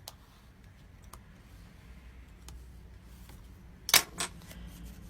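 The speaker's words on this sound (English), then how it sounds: "So just going to fold that and burnish that as well." Paper card stock being folded and burnished by hand while making a 3D pop-up flower pot card, heard as a quiet rustle followed by a couple of sharp, close crisp scrapes and clicks.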